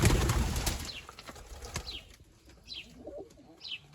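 Young pigeons in a loft coo softly several times against the sound of wings flapping and some rustling, with the flapping strongest near the start.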